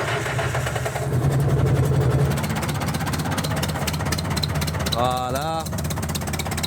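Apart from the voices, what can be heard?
cold start of an International 644 tractor engine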